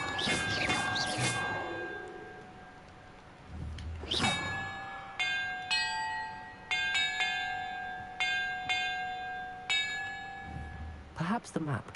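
Clear bells ring one after another in a puzzle in the video game Hogwarts Legacy, with bright, sustained tones that fade after each strike. Brief bursts of other game sounds come before them.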